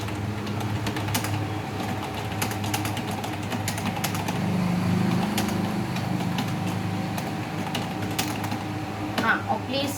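Steady typing on a computer keyboard, a fast run of light clicks continuing over a constant background hum.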